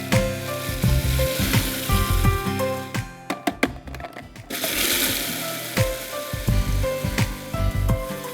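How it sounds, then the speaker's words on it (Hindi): Butter melting in a hot pan on the stove, a loud steady sizzle and crackle with stirring scrapes and occasional knocks, close and continuous. "मक्खन को ज़रा पिघला दीजिए।"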